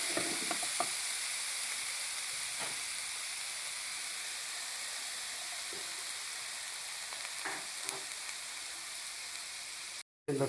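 Coarsely pounded garlic paste, four cloves' worth, sizzling in hot oil in a pan, a steady broadband hiss with occasional faint clicks of stirring, continuous and close, no voices.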